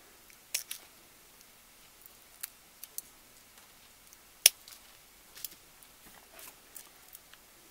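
Scissors snip down through thick ornament-making material in a few sharp, separate clicks, with one louder cut midway, close up in a quiet room with no voices.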